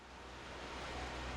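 Steady rushing wash of a waterfall in the Pokémon Scarlet video game, a broad continuous roar at low level with no other sounds.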